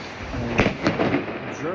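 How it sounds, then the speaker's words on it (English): Firecrackers bursting at New Year in Rostock, Germany, with a few sharp distant pops and a crackle over a steady outdoor rumble. "Germans really love shooting off firecrackers"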